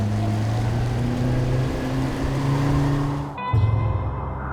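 A motorboat's outboard motor runs steadily on the water, then drops off briefly and is given throttle again, rising in a fresh burst of engine noise.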